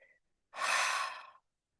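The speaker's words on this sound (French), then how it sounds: "grande inspiration par le nez et à laisser aller" A single deep breath drawn in through the nose and then let go in a long, soft airy exhale lasting nearly a second, close and quiet after a faint brief sound at the start, with no talking.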